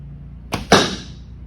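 Broadhead arrow shot from a bow into an MDF target: a short whoosh then a sharp, loud smack of impact with a brief ringing decay, alone and close.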